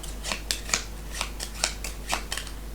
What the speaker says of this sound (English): First of all, we of course shuffle Cooper's cards.